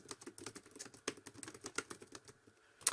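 Fingers typing an instant message on a computer keyboard, a quick irregular run of soft key clicks with a sharper tap near the end, faint and close with no speech.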